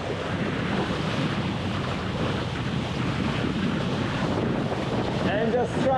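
Steady wind rush and breaking waves surround a small Minicat Explorer 520 sailing catamaran beating upwind under full sail, a continuous loud broadband roar with constant wind buffeting on the microphone.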